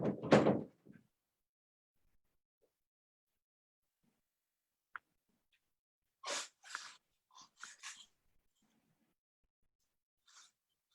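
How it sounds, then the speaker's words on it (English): A door swings shut indoors with one solid thud at the start, followed by near silence broken only by a few faint, brief rustles and breaths. "I'm going to close a door okay"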